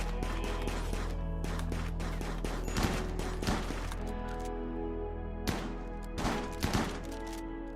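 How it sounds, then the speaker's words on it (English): Chain shotgun blasting away in the Rimworld video game, rapid volleys of sharp cracking shots in uneven bursts over a steady tonal game background. "Hector with his chain shotgun. It's just wrecking fools."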